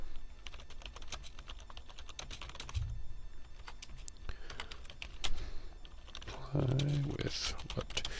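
Computer keyboard typing, a run of quick light key clicks at close range with a few pauses, mixed with low room noise and brief voice sounds.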